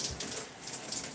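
Water is poured or sprayed onto natural hair on wash day, giving a brief, steady splashing hiss close by with no voices.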